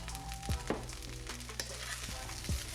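Vegetables and eggs sizzle steadily in a pan for chicken fried rice seasoned with oyster sauce, with a few sharp clanks and scrapes of stirring over the constant frying hiss.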